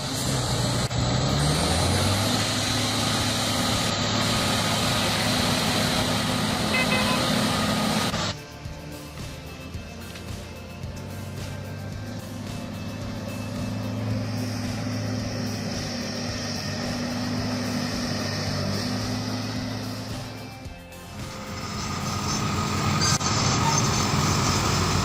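A MAN TGA 26.480 6x6 logging truck hauling long logs, its heavy diesel engine droning steadily and loudly, dipping for a stretch mid-way before swelling back up, with no voices.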